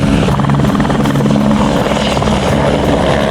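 Loud, close helicopter rotor thump and engine drone as a hunting chopper flies up a canyon in New Zealand, steady and unbroken throughout.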